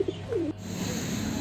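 A caged pigeon of fancy breeds like homers and fantails coos once, a short rising-falling throaty call up close, followed by quieter background murmur.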